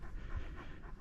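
A friendly, large dog met on a prairie trail in Kananaskis, Alberta, pants steadily and rapidly, close up and continuous, in quiet outdoor surroundings.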